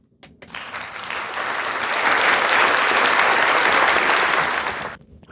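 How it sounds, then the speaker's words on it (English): A round of applause from an audience, clapping swelling in quickly, holding a loud even wash for about four seconds, then cutting off abruptly. "Round of applause to you, Thando Nkonyana."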